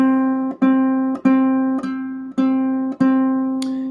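A ukulele C string plucked six times in an even rhythm, each mellow note sustaining clearly until the next pluck.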